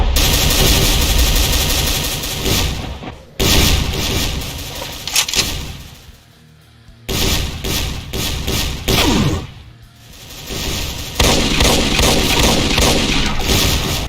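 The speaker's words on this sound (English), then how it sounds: "it can also shoot a volley of 2 spreads of demon tech rifle shots" Dense volleys of demon-tech rifle fire from a Hell Baron variant in a Doom mod, loud rapid bursts of thudding shots separated by brief pauses, with no voices.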